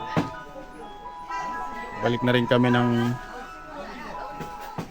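A truck pulls up to meet a tour group in rainy winter Taiwan, playing a tinny electronic jingle with a sustained melodic tone, moderately near, while people chatter around it.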